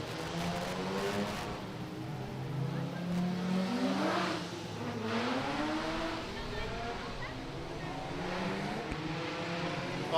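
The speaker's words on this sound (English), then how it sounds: "Roger Youngs' car not sounding very good at this stage of the fight" Roger Youngs' racing car runs rough on the track at Kleinplasie Summer Slam, a faint engine drone rising and falling in pitch as it circulates at a distance, with a commentator talking over it.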